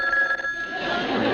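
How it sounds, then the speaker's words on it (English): A telephone bell rings in a short burst, a bright tone with a rattling shimmer that gives way to a noisier wash, fairly loud and close. "Answer the phone, Tim."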